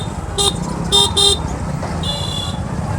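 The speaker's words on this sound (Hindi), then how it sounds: "और इतना ट्रैफिक है जिसका कोई जवाब नहीं" Busy road traffic in Sangam Vihar, with several short car horn toots in quick succession followed by a longer honk, all over a continuous rumble of engines nearby.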